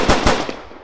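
Bullets fired from a game object during a test run, a quick loud burst of three close, rapid gunshots.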